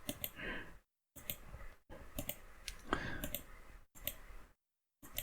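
Computer mouse left clicks, several short sharp taps at close range scattered among brief gaps of silence, quiet overall.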